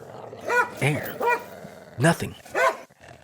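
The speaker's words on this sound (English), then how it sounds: "There was King's dark body thrashing and biting and making terrible growling sounds" A dog, King, fights another animal, thrashing and biting, with five or six loud snarling yelps and bark-like bursts in a ragged rhythm close by, between brief pauses.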